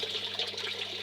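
Water flows steadily beneath the gravel media of an aquaponics grow bed fed from a pond, making a close, continuous trickling rush with a low hum underneath and no voices.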